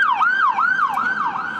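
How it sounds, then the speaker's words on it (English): A wailing ambulance siren sweeps up and down in a steady repeating cycle outside the John Radcliffe hospital, loud and close, with no talk over it. "There are ambulances attending. Our listeners can hear today."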